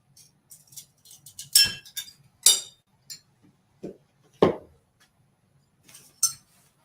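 Stained glass snapping and clinking at a work table, a series of short bright glassy clicks and taps, a few louder cracks spaced among quieter ticks, close and without talk.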